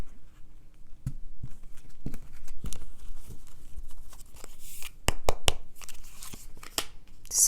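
A deck of tarot cards being cut and handled close up, with sharp papery snaps, riffles and shuffling clicks scattered irregularly over a quiet background.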